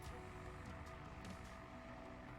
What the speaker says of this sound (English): You just kind of fly the drone around here.